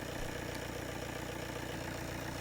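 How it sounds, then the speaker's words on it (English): A car engine idling steadily, a constant low mechanical hum with even vibration throughout, no voices. "the tester knows the engine is now running"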